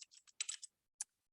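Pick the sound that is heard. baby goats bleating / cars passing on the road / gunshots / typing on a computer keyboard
typing on a computer keyboard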